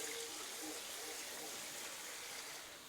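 Water pours into a pot of chili with kidney beans, a steady close gush lasting a few seconds and easing off at the end.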